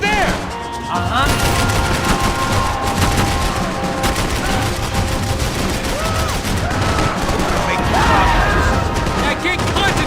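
Dense, loud gunfire rattles almost nonstop in a Max Payne 3 firefight, with bursts of automatic fire, single shots and bullets whizzing past, while voices shout over the chaos.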